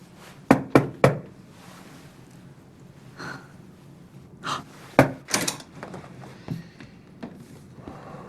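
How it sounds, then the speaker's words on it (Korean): Sharp knocks on a hotel room door come in three quick raps, then scattered fainter thumps and shuffling in a quiet room, with no talking. "노크를 3번 한 번 했네요"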